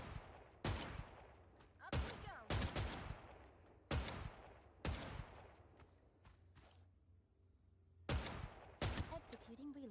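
Bursts of gunfire ring out in the shooter video game Fate Trigger, sharp loud shots and short volleys repeating every second or so, with faint movement between them.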